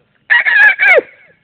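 A rooster crows once at close range, a loud three-part cock-a-doodle-doo call with a falling final note trailing off into silence, heard alone without speech.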